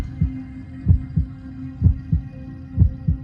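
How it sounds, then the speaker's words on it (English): A slow, steady heartbeat thumps in paired low beats, repeating evenly about three times over a faint hum. "The first sound you hear is the sound of your mother's heartbeat."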